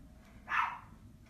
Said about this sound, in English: My dog is just nuts.